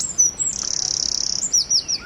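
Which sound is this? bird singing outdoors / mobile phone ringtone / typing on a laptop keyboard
bird singing outdoors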